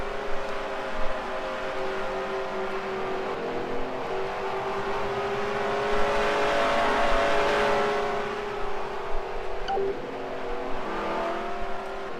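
Race cars lapping a muddy speedway in the Second Life game, engines droning steadily throughout with rising and falling revs as cars accelerate, alone with no talk.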